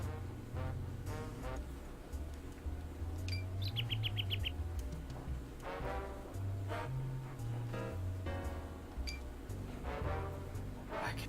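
Birds chirping in the video game Sakura Wars, a string of bright tweets and a quick trilling run over low hum and music-like tones.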